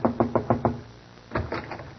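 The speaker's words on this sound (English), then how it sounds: "Shall I knock, Doctor?" Knocking on a door, a quick run of five sharp raps, then after a pause a second, slightly denser series of knocks, close and clear with no talk over them.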